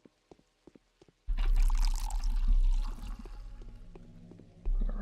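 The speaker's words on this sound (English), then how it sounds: "let's fill up with some water here" Water pours steadily into a container in Pathologic, a loud continuous splashing fill after a few soft clicks and taps, easing slightly before a final surge of pouring.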